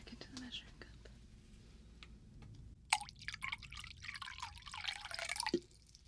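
Water poured back into a measuring cup during a close-up binaural relaxation session, heard as soft, close drips and a brief bright trickling pour over faint whispering.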